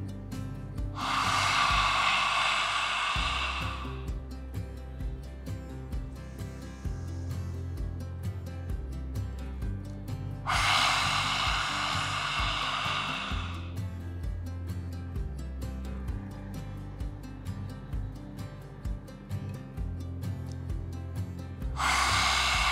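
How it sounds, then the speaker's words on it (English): Three forceful yoga exhalations, tongue out, during a sinus-relief breathing exercise: broad breathy bursts of several seconds each, widely spaced, over steady low background hum. "Stick the tongue out and exhale."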